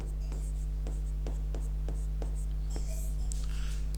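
Pen strokes scratching across paper in a steady run of short marks while a diagram is drawn, close but soft over a loud low hum, with a faint whisper-like rustle near the end.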